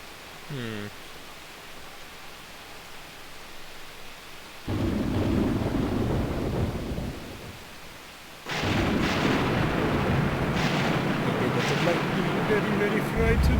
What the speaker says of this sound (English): Yet the storm and rumblings only grew worse.